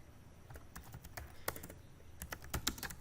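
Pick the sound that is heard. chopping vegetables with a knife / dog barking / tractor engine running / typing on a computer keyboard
typing on a computer keyboard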